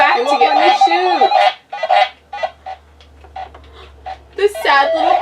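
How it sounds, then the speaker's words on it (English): Honking, quacking cries of shot ducks from an Atari 2600 duck-shooting game, a few bursts with gaps between them, loud, while people in the room talk. "The sad little cries of the dead ducks."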